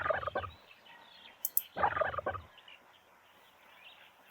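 Two loud, rattling gobbles from a turkey answering a call in the King of the Hill game, separated by a short pause, with a faint chirp between them.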